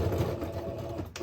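A sewing machine runs steadily while back stitching on elastic for a ribbon skirt, a close, continuous mechanical whir with a rapid rhythmic hum that eases slightly just before the end.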